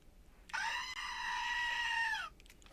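A goat named Billy lets out one long, loud, harmonic scream lasting nearly two seconds, rising sharply at onset and cutting off abruptly, standing alone over a faint background hiss.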